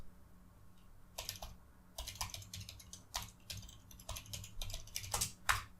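Someone types a file name on a computer keyboard, tapping out short irregular bursts of crisp, close keystrokes with brief pauses between them.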